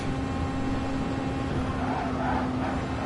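A race car engine holds a steady high-revving drone at constant pitch throughout, loud and continuous with no voices.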